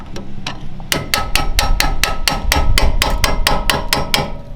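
Hammer blows ring out on a loose brake plate of a 1979 Mazda RX-7, loud and close, about a dozen sharp metallic strikes in a fast, even rhythm with no talking.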